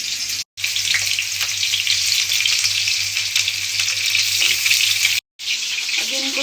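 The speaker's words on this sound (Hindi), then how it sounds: "अब इनको थोड़ी देर ना मैं ऐसे ही तेल में पकने दूँगी ताकि थोड़ा सा पक जाए" Food sizzles steadily in hot oil, a dense continuous crackle that holds loud and close, broken by two brief moments of silence.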